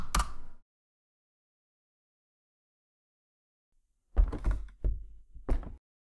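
A door sound effect from a free game sound pack, with a short knock at the start, then a gap of silence and a cluster of three or four thudding impacts. Close and dry, with no talk.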